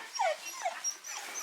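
A dog whimpers in a series of high, falling whines, close but fairly soft, with a couple of short cries spread across a quiet background.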